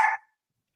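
A single short dog bark, close and fairly loud, ending abruptly and followed by silence.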